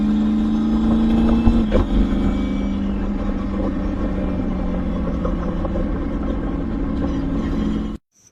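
Race car engine and gearbox whining loudly, a sustained tonal drone that sags slightly in pitch after a quick shift-like blip, then cuts off abruptly at the end.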